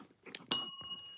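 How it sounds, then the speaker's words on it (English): A small desk bell struck once during a podcast recording, giving a bright ring that lingers briefly after a few faint background sounds, close and moderately loud. "I'm so bad at hitting this bell"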